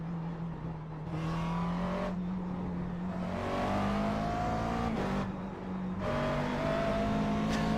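A McLaren MP4 12C racing in the iRacing sim at VIR revs hard under full throttle, its engine note climbing steadily through repeated upshifts with short dips between gears, loud and continuous, with no voices.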